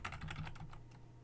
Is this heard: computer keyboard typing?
yes